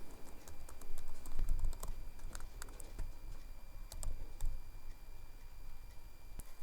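Fingers tap out an entry on a computer keyboard while working in an Excel spreadsheet, with quick irregular clicks, close and crisp, and a few sharper keystrokes standing out.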